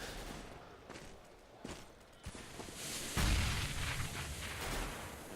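Gunshots in CS:GO during a professional match, a few sharp shots early on, then a louder booming burst followed by a rumbling, rushing stretch, all fairly distant and without talk.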